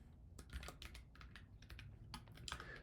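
Rapid clicks from a computer keyboard as code is typed, irregular bursts of close, light keystrokes with brief pauses and no talking.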